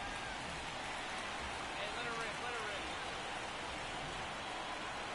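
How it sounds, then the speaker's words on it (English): Steady rain pours over a baseball game, a dense continuous hiss with no breaks or distinct drops, moderately loud and unchanging throughout. "This rain is not letting up."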